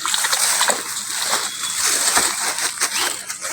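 Water sloshing and splashing steadily as organic fertilizer is stirred into it by hand, close up with repeated churning splatters and faint voices in the background.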